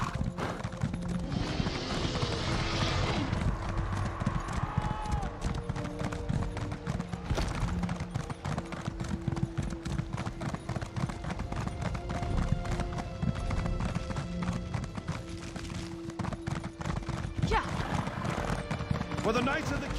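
Horse hooves gallop in The Elder Scrolls Online, a rapid, continuous clip-clop rhythm with occasional neighing, while voices speak over the ride.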